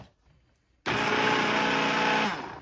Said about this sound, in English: I'm gonna use my immersion blender to give this a quick little blitz